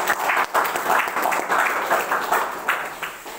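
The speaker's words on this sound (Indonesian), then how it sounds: "Mari kita berikan aplaus kepada Tuhan." An audience at a university student seminar applauds, a dense, steady wash of many hands clapping that swells and fades slightly over a few seconds, loud and close, with no voices over it.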